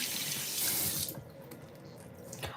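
Tap water gushes into a sink in a steady hiss for about a second, then cuts off, leaving faint drips and quiet room noise; no one speaks.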